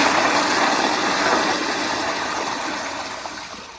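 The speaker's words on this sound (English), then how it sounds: "So let me give you another flush like this" A 2018 Zurn EcoVantage toilet flushes with a loud, close rushing roar of water that holds steady and slowly tapers off.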